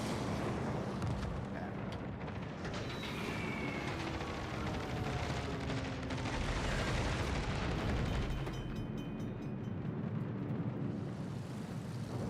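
Bomber strike explosions in World of Warships Legends, a continuous loud rumbling roar of blasts and booms layered over game noise, no talking.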